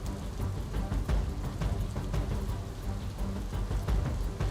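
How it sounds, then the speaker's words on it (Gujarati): Heavy continuous rain pours over paddy farm fields in Kheda, a dense steady hiss of downpour with scattered sharper drop impacts, loud and unbroken throughout. "3 દિવસથી સતત વરસાદ પડી રહ્યો છે।"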